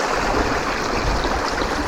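A clear mountain stream flowing on the Colorado Trail, a steady close rushing and burbling wash of water with no voices.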